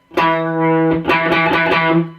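A single sustained, distorted electric guitar note at the 7th fret of the A string rings out, then gets picked again with a few rhythmic muted scratches, loud and close, fading at the end.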